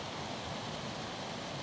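Steady broadband rush of a waterfall in a Welsh temperate rainforest, a constant close roar of falling water with no breaks and no voices.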